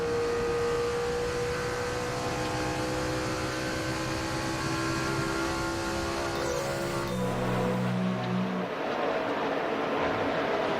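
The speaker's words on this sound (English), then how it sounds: "205 miles per hour off of Kasey Kahne's car going down to turn 1" NASCAR stock cars at 205 mph, including Kasey Kahne's car, during the 2006 GFS Marketplace 400: a sustained, droning engine roar that shifts pitch as cars pass, steady and loud, with no commentary heard.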